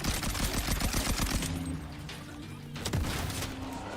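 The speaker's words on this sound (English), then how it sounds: "So this one's got an underbarrel shotgun on it" An underbarrel shotgun attachment dealing fire damage in Borderlands, in the middle of a fight: a fast, loud run of rapid shots for about a second and a half, then sparser blasts and a later single heavy report.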